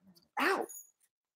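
A dog named Winston gives a short, high whine followed by a softer trailing whimper, close and fairly quiet, with faint sounds before and silence after.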